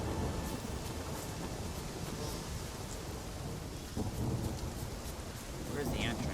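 Heavy storm in The Witcher 3 on Skellige, with dense rain pouring steadily and low thunder rumbling beneath it, continuous and fairly loud, with no voices.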